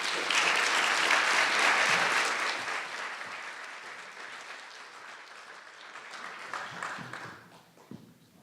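An audience applauds to welcome the Indiana University president at a conference opening, with dense, loud clapping at the start that gradually thins and fades over several seconds.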